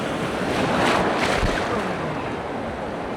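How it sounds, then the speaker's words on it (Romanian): Big waves surge and crash onto a turquoise-water beach, a loud continuous roar of surf with wind buffeting the microphone throughout. "Ce valuri mari!"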